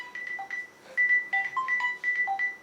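A phone ringtone plays a quick electronic melody of bright beeping notes in short repeating phrases, clear and close with no talking over it.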